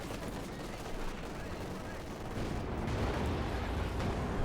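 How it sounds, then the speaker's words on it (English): Tank cannon fire and machine guns rattle in a dense, continuous battle soundscape from the World War II strategy game Company of Heroes 2, with the din growing louder halfway through. "Shots exchanged here, both either miss or bounce."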